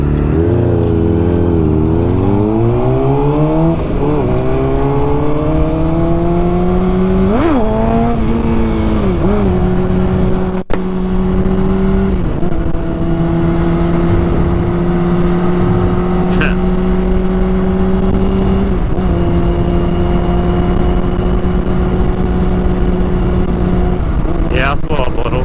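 A 2007 Honda CBR600RR and a 2006 Yamaha R6 ridden together, loud close engine drone with rising and falling revs early on, then a steady high cruising tone, with wind noise and brief voices mixed in.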